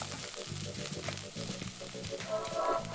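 Wine poured into a heavy Italian risotto pan for arancini, giving a steady, close sizzle and bubbling with some low rumbling underneath throughout.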